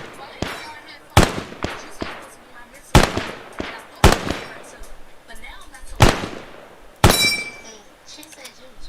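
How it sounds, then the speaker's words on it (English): Sustained gunfire on a target area comes as sharp, separate cracks, about eight of them at uneven gaps, each decaying quickly into quiet. "Kazzy, sustained fire. Target area."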